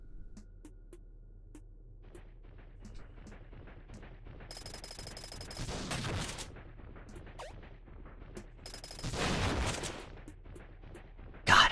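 Shotgun blasts firing missiles in the game Iconoclasts, two dense bursts of explosive fire rising over a low rumbling background, the second slightly louder, ending with a sharp loud hit.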